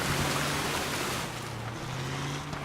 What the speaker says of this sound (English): Splash.